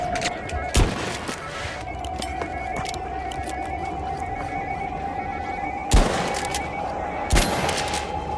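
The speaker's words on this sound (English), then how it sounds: "Nice repeater shots." Repeater rifle shots in the video game The Finals, sharp cracks at about 0.8 s, 6 s and 7.4 s over a steady electronic hum and background game noise.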